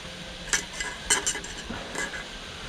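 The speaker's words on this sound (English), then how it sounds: "Get a lid on that," Onions sweat in a pot on a wood-burning stove as a metal lid is handled and set on, several sharp clinks and scrapes over a soft sizzle, close and alone.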